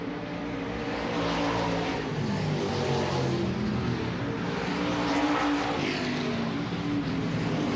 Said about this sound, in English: We'll get the checkered out here for Shelby Williams and first session of IMCA Stock Car Hot Laps.